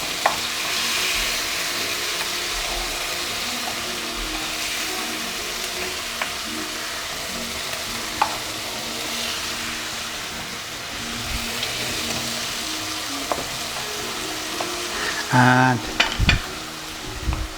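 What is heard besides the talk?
tomatoes frying in a pan being flipped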